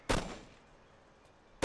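Two sharp, loud gunshots from the tactical shooter Arma: Cold War Assault, spaced about a second and a half apart, each with a short echoing tail over quiet background.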